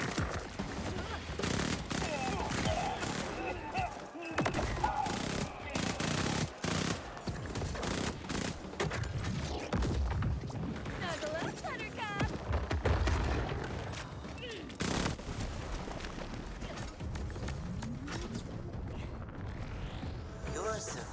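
Rapid automatic fire from the Mad Lad SMG in Borderlands 4: dense, continuous bursts of gunfire with booms and impacts running the whole way through, mixed with game sounds and a talking voice.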